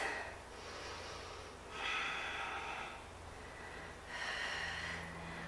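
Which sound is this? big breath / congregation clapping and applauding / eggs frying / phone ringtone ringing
big breath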